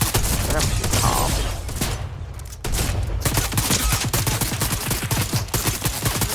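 Gunfire in the Fortnite video game comes in dense rapid bursts with a brief lull in the middle, loud and close, with shotgun blasts among the rattling shots.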